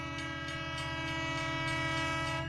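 A loud, sustained train horn sounds effect-style over the low rumble and faint rhythmic clickety-clack of rail cars, continuing steadily without any voices.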